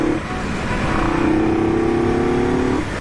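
Motorcycle engine droning steadily on a hot afternoon ride, loud and close with a rising, sustained tone, then easing off near the end.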